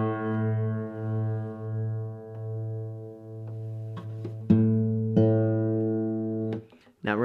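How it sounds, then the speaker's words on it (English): Out-of-tune strings on an acoustic guitar, low E at the fifth fret, ring as long sustained single notes, then several sharper plucks near the end, all close and clear with no voices. "we can clearly hear that these strings are out of tune."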